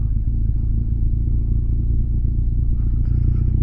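Motorcycle on a ride around the Mull of Galloway in Scotland, pulling away in first gear with a deep, close, throbbing engine rumble that stays loud and steady, with a light rattle near the end.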